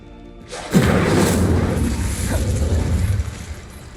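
An Incendio fire spell cast in Hogwarts Legacy goes off as a sudden loud whoosh and boom that sustains as a dense roaring burst for a few seconds before fading.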